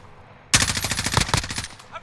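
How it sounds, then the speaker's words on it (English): Rapid bursts of automatic gunfire from a video game match with a Rytec AMR rifle firing explosive rounds, a loud sustained volley of close shots starting abruptly and running for over a second before cutting off. "He just got shot from someone else"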